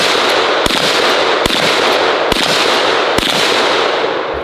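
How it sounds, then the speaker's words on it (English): Four sharp, loud reports from a .38 Special lever-action rifle, spaced under a second apart, each a crisp crack over steady background noise. "this is a lever action chambered at 38 special"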